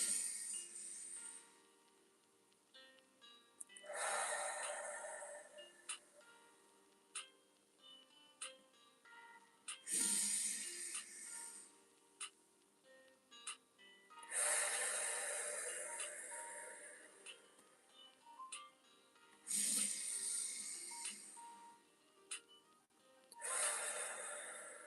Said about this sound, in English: I would like to enjoy some deep breathing as well